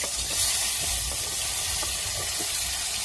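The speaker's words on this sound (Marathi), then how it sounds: "तर आता आपलं जे तेल आणि हळद टाकायचं ते पण चांगलं तापलेलं आहे, आणि आपल्याला आता लगेच कारले टाकून घ्यायचे" Bitter gourd fries in hot oil with turmeric, giving a steady close sizzle with a continuous bright hiss and no talk.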